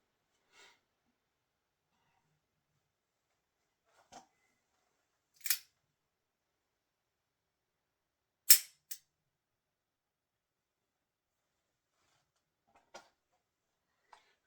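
A pistol makes sharp, isolated mechanical clicks in dry-fire practice: a few faint ticks and two louder snaps, spaced several seconds apart against near silence.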